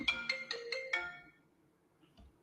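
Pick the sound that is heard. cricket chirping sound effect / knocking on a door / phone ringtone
phone ringtone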